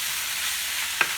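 Onions sizzle steadily in a hot frying pan while being stirred, with one quick spoon scrape or clack near the end.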